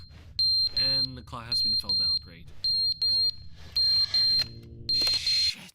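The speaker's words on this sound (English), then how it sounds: "Oh, the fire alarm." A game fire alarm in Crashout Crew keeps beeping in steady high-pitched pairs while someone talks over it, the tones cutting through his speech near and loud.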